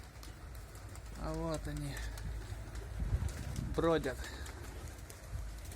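Domestic pigeons coo in two clear bursts of throaty, warbling calls, close by, with someone talking quietly between them over a low outdoor rumble.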